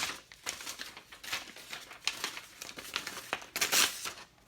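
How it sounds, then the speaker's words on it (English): A dull knife rips and tears through sheets of copy paper in a string of irregular crinkling, ragged tearing strokes, close up, with sharper louder tears near the end. "Got some copy paper here. Just really rips and tears."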